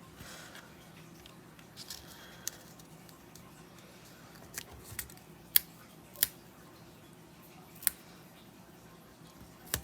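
Scissors snipping paper for a holiday cat-themed scrapbook layout, a handful of short, sharp cuts scattered across a quiet tabletop background, close and fairly faint, with no talking.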